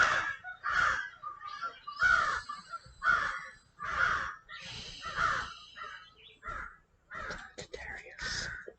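A crow caws again and again, harsh loud calls coming in a steady series about one per second with brief gaps between them.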